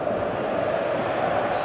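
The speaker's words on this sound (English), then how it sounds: "you can feel and hear how the crowd are reacting to all of this" A stadium crowd in the football game PES 2018 gives off a dense, steady roar that stays level throughout, a broad wash of massed voices at moderate volume with no single distinct shouts.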